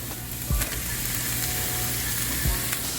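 Fajita vegetables sizzle steadily and loudly in a hot pan, with a couple of scraping stirs breaking the constant crackle and no talking.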